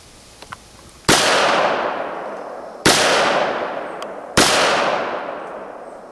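Three sharp, loud gunshots from a Walther WMP .22 Magnum pistol at a shooting range, each crack followed by a long decaying echo, spaced roughly two seconds apart.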